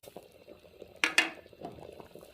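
Milk thickened with sugar simmers in a pot for caramel kheer, a low quiet bubbling with a couple of brief louder splashy bursts partway through.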